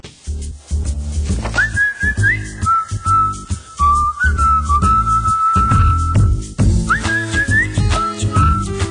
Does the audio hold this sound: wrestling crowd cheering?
no